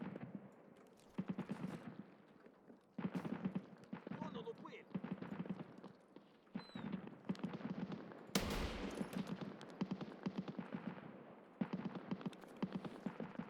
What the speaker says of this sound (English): Guess they're shooting at somebody they can't hit